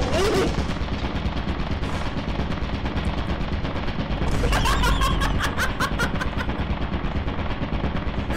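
Rapid automatic gunfire from a sentry turret in a video game bursts loud and close midway through, over steady game noise and a dense background roar.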